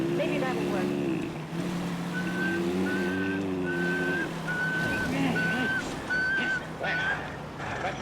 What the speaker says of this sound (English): They say if you whistle in a monotone, maybe that'll work.